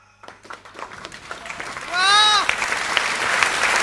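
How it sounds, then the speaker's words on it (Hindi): Audience clapping at a Hindi comedy poetry show (hasya kavi sammelan), a sustained crowd applause that builds and swells, with a voice talking over it early on and a brief vocal cry in the middle. "ताली तो आप लोग ऐसे बजा रहे इसमें बारात आए थे"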